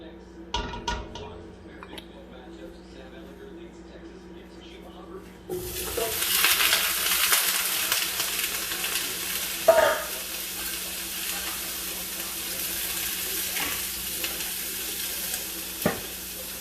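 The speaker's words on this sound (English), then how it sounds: "So you're not trying to burn the sausage, just trying to get a nice little sear on them" Smoked sausage searing in a pot for gumbo. Quiet kitchen clatter gives way to a loud, steady sizzle that continues to the end, with a few utensil clinks and scrapes.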